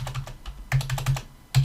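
Numbers being typed on a computer keyboard: quick clusters of close, crisp key clicks with short pauses between bursts, heard alone with no talking.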